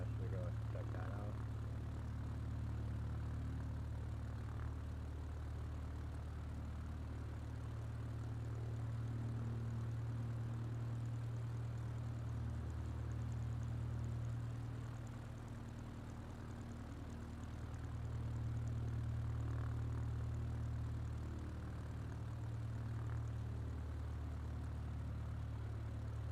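A propeller plane's engine in a flight simulator game drones steadily at a low, even pitch, swelling slightly and dipping at times, with no talking over it.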